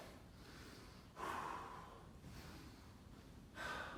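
A person at home, recovering after a TRX workout exercise, breathes heavily: two strong, close exhales stand out over a steady, quieter breath.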